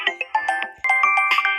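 A phone ringtone plays as a short bright electronic melody of repeated chiming tones, loud and close, with a brief pause midway before the tune continues.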